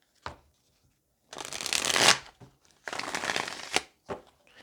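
Tarot cards are shuffled close up in several crisp riffling bursts, with a quick flick first, two longer shuffles and a couple of brief taps between them.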